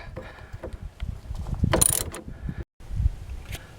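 Wrench tightening the nut on a worn car stabilizer link, a series of close metallic ratcheting clicks and scrapes, irregular and building, with a brief silent gap near the end before more clicking.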